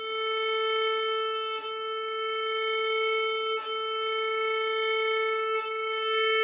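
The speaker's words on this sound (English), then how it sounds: "So let's have a go and open A." Violin bowing the open A string in a steady sustained tone, with brief breaks at the bow changes roughly every two seconds, close and clear without speech.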